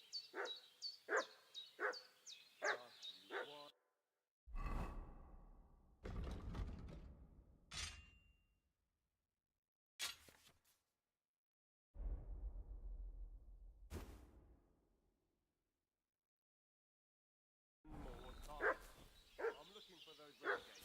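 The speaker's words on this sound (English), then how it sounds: "What's that dog making such a fuss about?" A dog in the medieval video game Kingdom Come: Deliverance II barks in rapid, loud bursts, with other clips of sound and voices between long silences, and more barking at the end.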